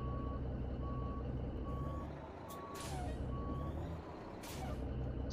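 Reversing beeps from a truck in American Truck Simulator, a steady evenly spaced series of tones over a loud idling diesel rumble, with brief air brake hisses partway through.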